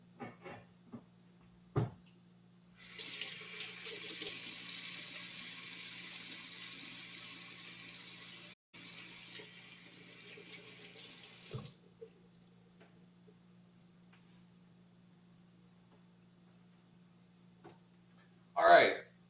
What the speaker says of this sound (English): quick little hand wash